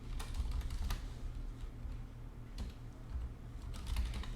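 Quiet, steady typing of code on a computer keyboard, with irregular key clicks and occasional sharper taps over a low background hum, with no talking.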